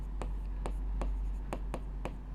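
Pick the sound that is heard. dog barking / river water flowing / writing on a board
writing on a board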